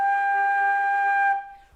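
A flute holds a steady G note for just over a second, clear and close, then stops and leaves near silence; no voices.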